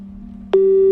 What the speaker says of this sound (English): Please feel free to leave a message after the beep.